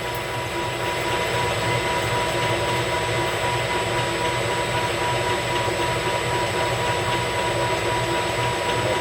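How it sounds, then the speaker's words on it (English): A manually hand-cranked milling machine cuts a mounting puck, giving a continuous, even mechanical hum and whir with a steady tonal drone and no breaks. "I'm just hand cranking it in now. I'm not using the auto feed."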